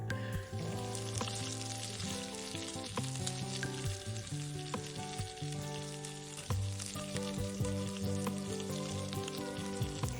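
Thick-cut maple bacon cooked with maple syrup sizzles and spits in a pan over medium heat, with a dense, continuous crackle and occasional stirring clatter, no talking.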